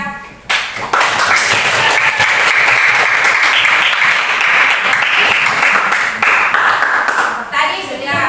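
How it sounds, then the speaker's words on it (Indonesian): A classroom of pupils claps together in a burst of applause, dense and steady for several seconds before tapering off, with children's voices faintly underneath. "Beri applause kepada"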